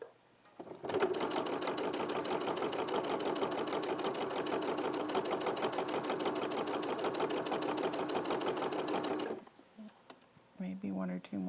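A sewing machine runs in one steady, continuous burst of rapid stitching for about eight seconds, loud and close, then stops abruptly, with brief talk heard before and after.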